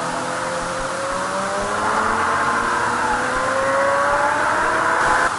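Suzuki GSX-R motorcycle engine revving, a loud, sustained rising whine that climbs steadily in pitch, close and continuous with no talk.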